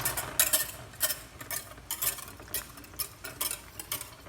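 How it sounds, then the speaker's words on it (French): Whisk stirring quickly in a pot while making a guava charlotte, a rapid rhythmic series of metallic scraping strokes, roughly two per second, close and moderately quiet. "tu vas les mettre et tu vas tourner vite avec le fouet"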